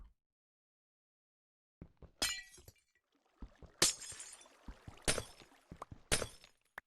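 Glass blocks shatter one after another in a video game, several crisp breaking crashes with tinkling debris arriving in quick succession, loud and close, with no talking.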